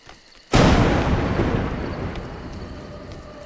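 Thunder in A Juggler's Tale: a single sudden loud crack that rolls into a long rumble and slowly fades.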